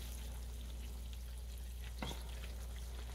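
Green tomato slices fry steadily in a pan over slightly above medium heat, a soft, even sizzle throughout with one brief scrape or clatter near the middle, faint and close.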